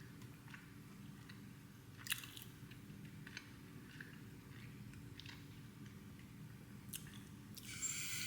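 Someone bites and chews an apple and cinnamon hot cross bun, soft crunchy chewing sounds close up and quiet, with a few sharper bites.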